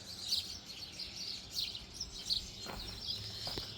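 Small garden birds chirp and tweet in short, high bursts scattered through the whole stretch, fairly faint and at a distance over a steady outdoor hiss, with no voices.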